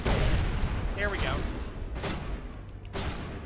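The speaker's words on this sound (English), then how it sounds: "there is an explosion barrel behind me" An explosive barrel blows up in a video game with a heavy boom, followed by crackling gunfire and further blasts through a dense, loud battle mix, with a voice talking over it.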